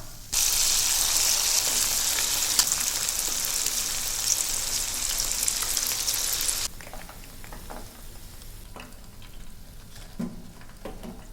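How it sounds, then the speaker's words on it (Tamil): Chilli chicken pieces frying in hot oil, a loud, dense hiss and crackle for several seconds that drops to a quieter bubbling with scattered pops and clicks. "இப்போ மீதி இருக்க எல்லா சில்லி சிக்கனையும் பொரிச்சு எடுத்துடலாம்."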